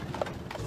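Horse hooves clip-clop in a short burst of a few steps at a stable, with Euro Disney's imported American horses in France, 1992; moderately close with a low rumble underneath.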